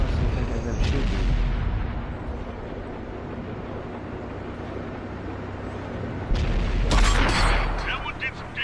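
Tank cannon fire in the World of Tanks game: a heavy boom at the start and another loud blast near the seven-second mark, with a steady engine rumble between the shots.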